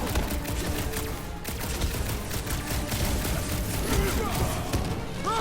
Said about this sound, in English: Should we be shooting this close to these things?